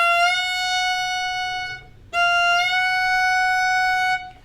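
Slowed-down Irish fiddle slide ornament: two long bowed notes that each bend up into the melody note (F sharp) from a half step below, played close and clear with a short gap between them.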